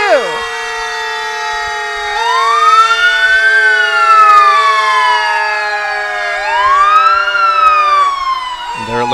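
Fire Engine 22 passes in a July 4th parade, its loud wailing siren rising and falling in long sweeps, close and dominant throughout.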